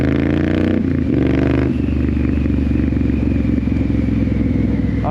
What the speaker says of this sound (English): Just simply riding a bike, man.